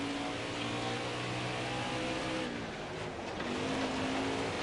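Race car engines drone steadily in a NASCAR dirt racing video game, a continuous close roar whose harmonic pitch shifts as the cars accelerate and ease off, dipping briefly near the end before climbing again.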